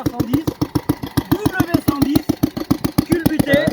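A Bernard W110 overhead-valve stationary engine runs close by with a steady, rapid chugging beat throughout, while people talk over it.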